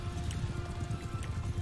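Horse hooves in the medieval combat game Mount & Blade II: Bannerlord, a steady quick clip-clop of a ridden horse repeating evenly throughout over a low constant hum.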